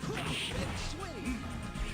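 A web swing move in a Spider-Man fighting game lands as a loud smash with whooshing swishes, set against a continuous, busy game soundtrack.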